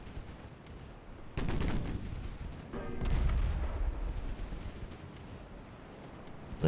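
Battlecruiser guns firing in the naval game Ultimate Admiral: Dreadnoughts: two heavy booming salvos a second or two apart, each with a rolling rumble that lingers, followed by a sudden burst at the very end.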